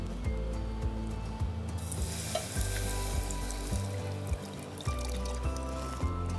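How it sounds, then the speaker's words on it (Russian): Salamat batter is poured into a heated pot and stirred, giving a soft sizzle with repeated scraping strokes of the spoon at an uneven rhythm, close and fairly quiet with no talking. "Ну а теперь вот я осторожненько вливаю в кастрюлю."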